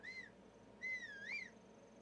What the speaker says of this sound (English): somehow that whistle just scared that lizard off the side of the cliff